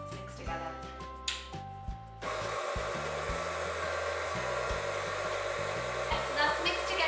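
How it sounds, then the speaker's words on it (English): An electric stand mixer whirs steadily through vanilla cupcake batter, switching on about two seconds in with a broad, constant motor hum that carries to the end, and a few faint knocks come before it starts. "Put them in the mixer and then put it on a low speed at first"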